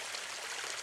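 Creek water flowing in the Porter Ranch area of Los Angeles, heard as a steady, soft, hissing rush without voices or distinct splashes.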